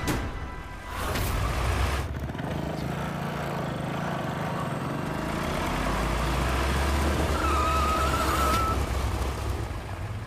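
A car engine runs steadily and fairly close, its low drone holding under faint background sound, with a brief high squeal near the end as the vehicle slows to a stop.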